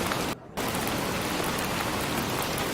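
Steady rain falls in a dense, even hiss of drops hitting surfaces nearby, broken only by a brief dip near the start, with no voices.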